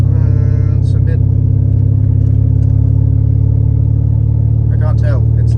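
A turbocharged BMW E46 engine cruising steadily around 2,500 RPM, giving a loud, constant low drone with brief higher bursts, while someone talks over it.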